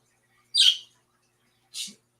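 A bird in a video game gives two short, bright chirps about a second apart, each standing alone against near silence.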